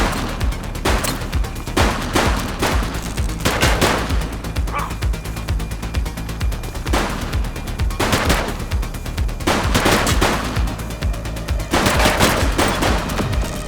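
Police gunfire in The Precinct video game: repeated bursts of automatic and single shots crack out loudly across the scene, clustered in volleys over a steady low rumble, with no voices.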